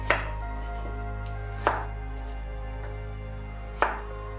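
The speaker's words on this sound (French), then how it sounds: "Pour le navet, nous allons le couper en rondelles d'1 demi-centimètre d'épaisseur" A knife chops through carrot into rounds on a cutting board, three separate crisp cuts spaced well apart, close and fairly quiet over a steady low hum, with no talking.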